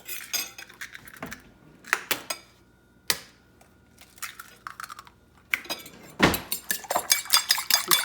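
Eggs beaten in a bowl with a utensil while making dressing, giving rapid metallic clinks and scrapes in irregular bursts, close and fairly loud, with no talking.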